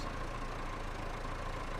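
A tractor engine in Farming Simulator 25 idles with a steady low rumble and a faint knocking pulse, constant and close, with no voices over it.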